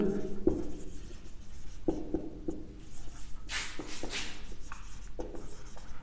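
Chalk or marker scratches across a classroom board as a definition is written during a Class 12 physics lesson, with short taps and strokes in irregular bursts, close and fairly clear, and no talking.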